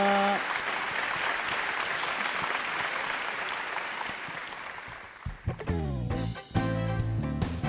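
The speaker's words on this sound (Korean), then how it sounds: "다시 한번 격려의 박수 부탁드립니다." A large church congregation claps steadily for several seconds, then the applause gives way as instrumental worship music starts up.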